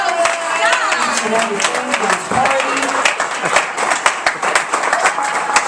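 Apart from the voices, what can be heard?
applause for the host's mother at a birthday party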